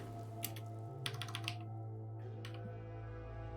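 Quiet computer keyboard typing in a few short clusters of keystrokes, separated by pauses, over a steady low electrical hum and without voices.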